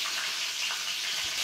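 Stuffed capsicum peppers, filled with spices, fry in a pan with a steady, close hiss that keeps going without a break.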